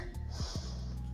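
A single quick breath drawn in through the nose during an intermediate French yoga session, a short snort-like sniff sounding close and fairly clear against a quiet room with a low steady hum.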